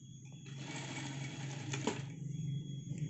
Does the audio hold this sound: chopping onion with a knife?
no